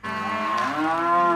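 A single long, loud cow moo from cattle in an Australian feedlot, rising in pitch and sustained alone up close.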